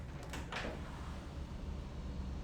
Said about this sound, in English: I have to open the door for her